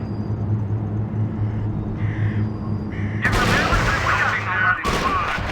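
Sustained gunfire from the World War II strategy game R.U.S.E. erupts loudly after a quieter stretch of low hum, tones and radio-style voice chatter, then continues as a dense burst with a short gap near the end.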